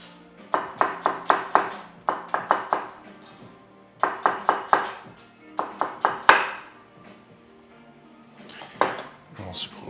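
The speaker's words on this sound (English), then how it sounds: "Onion we shall slice down." A kitchen knife slices through an onion on a board while cooking an Asian vegetable stir fry, with quick rhythmic cuts in clustered bursts and short pauses between them, close and clear.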